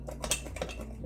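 A spoon stirring lime juice and sugar in a container, a few soft clinks and scraping taps in quick succession, close and quiet.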